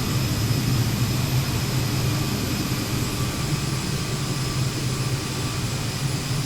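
A propeller airplane in a flight simulator video game drones in a loud, unbroken engine roar with a steady low hum and constant broadband noise, no voices over it.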